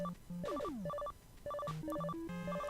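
A telephone rings in Mega Man 9 as a chiptune melody of bright beeping tones and sliding bleeps, looping at a steady, moderate volume.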